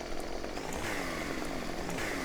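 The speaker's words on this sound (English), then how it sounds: "Well, this chainsaw wants to cut." A chainsaw revs and bites as it cuts limbs off a tree in Farming Simulator 2015, a steady buzzing engine whine with pitch sweeps, close and continuous.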